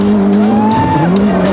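Rally car revving hard and sliding on gravel forest roads among tall timber at Rally Australia in Western Australia, engine note rising and falling with tyre scrabble, loud and close, no talk.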